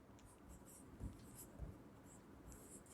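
Chalk or marker writing on a classroom board during a Sanskrit lesson, a steady scratchy scraping with two soft taps near the middle, fairly quiet and without talk.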